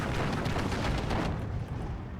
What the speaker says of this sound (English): I'm going to drop these two 100-kilogram HE bombs there.